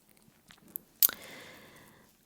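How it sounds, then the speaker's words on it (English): A close, crisp bite into homemade granola bar mixture gives a sharp crunch, followed by about a second of soft, moist chewing that fades to quiet, with faint small mouth and handling sounds just before. "I just tasted a little just to see if it was good"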